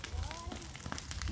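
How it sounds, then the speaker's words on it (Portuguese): An outdoor fire burns among coconut palms being cleared, giving a dense, steady crackling hiss. It is close and fairly loud, with a faint tonal whistle mixed in. "Agora o fogo ali continua."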